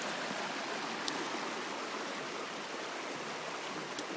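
Strong river current during spring flooding in Muskoka, a steady broadband roar of rushing water that stays loud and unbroken throughout, with no voices.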